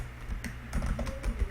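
Rapid, uneven keystrokes on a computer keyboard while C++ code is written, with close clicky taps running through the whole short stretch over a low background hum.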